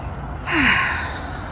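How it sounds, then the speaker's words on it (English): One deep cleansing breath during a guided breathing and visualization exercise: a single audible inhale rising and fading over about a second, close and clear, with a quiet room behind it. "Cleansing breath"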